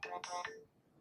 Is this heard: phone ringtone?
yes